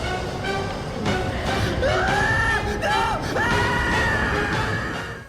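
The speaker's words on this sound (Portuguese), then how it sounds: "O grito dele." Icarus from the video game God of War 2 lets out a long, wavering scream as he falls, a loud pitched cry that rises and bends over several seconds, set against dense rumbling game sound.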